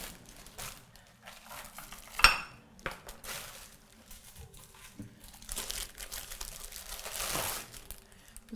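Temp-tations Floral Lace ceramic bakeware dishes and lids handled during unboxing, with scattered clinks, taps and crinkling packaging rustle, one sharper ceramic clink standing out, close and moderately quiet.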